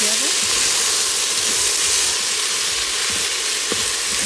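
Salt and red chili powder are stirred together in a hot Instant Pot, giving a steady, even sizzle and frying hiss with faint scraping, no voices.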